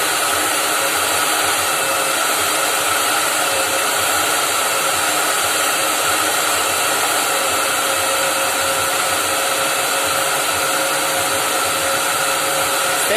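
A hair dryer under repair, its heating element at 50% and its fan at raised speed, running with a steady, loud, unbroken whine and rushing airflow for the whole stretch, with no talking.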